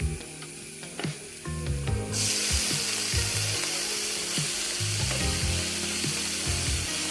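Pre-cooked clams fry loudly in a pan with coriander powder and chili powder, a steady close sizzle with scattered clinks and scraping of stirring, and no talking.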